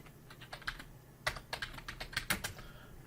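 Computer keyboard keys and mouse clicks sound during design editing: a quick, uneven run of light taps and clicks, close and fairly quiet, with no talking.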